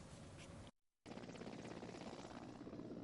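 A helicopter flies over the northern slopes of the Chadym mountain massif with a steady, loud rotor and engine roar, broken by one brief drop-out before the even thrum resumes.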